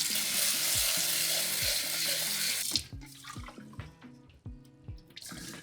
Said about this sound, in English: We're gonna wash and rinse this rice about 2 to 3 times, and I'll show you what that looks like.